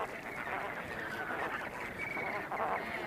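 Flamingos on the Atacama salt pan give a dense, continuous chorus of honking, quacking calls from a large flock, steady and moderately loud throughout.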